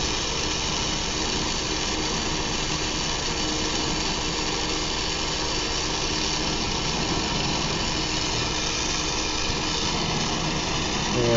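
A surface mix chamber torch used for silver-fuming glass tubing roars steadily and loudly like a jet engine, a constant broadband rush with no pauses and no talk.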